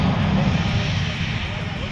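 Marine Corps F-35B fighter jet engine roaring during a short takeoff run down a runway, a steady, loud, broadband rumble with a strong low-end drone that holds without break.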